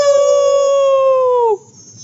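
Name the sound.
people imitating a howling beast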